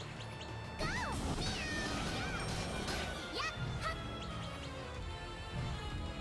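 A cat in the video game Castlevania: Grimoire of Souls gives several rising meows amid busy game effects, hits and music, the calls short and fairly clear over the dense mix.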